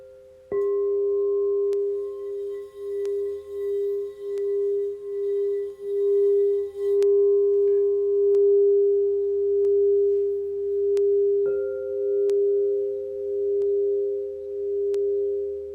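A smoky quartz and charcoal singing bowl is struck and rings with a pure, sustained tone that pulses gently as it sustains, with a second strike partway through renewing the bright hum; no talking.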